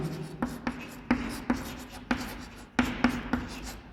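Chalk or marker writing on a board during a physics lesson on diodes, a series of close, crisp strokes and taps in uneven bursts, with no voice over them.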